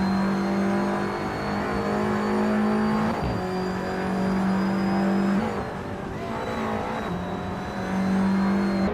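Race cars, including a 2018 Peugeot 308, roar off the start at the Rio de Janeiro National Track, engines revving hard and shifting up repeatedly, loud and close with a steady layered drone of several cars.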